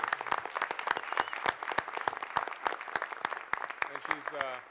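An audience claps in warm applause for Angelica's badminton achievement at a board of trustees meeting, a dense run of hand claps lasting a few seconds, moderately loud in a room.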